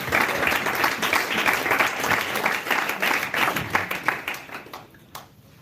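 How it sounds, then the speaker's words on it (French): A church congregation applauds to acclaim Jesus during a sermon, steady dense clapping close and loud that thins and fades out toward the end. "Que nous acclamons le Seigneur Jésus"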